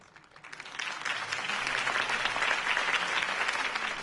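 In a Batman video game, a crowd bursts into sustained, dense applause that swells quickly and holds steady, loud and fairly close, with faint cheering mixed in.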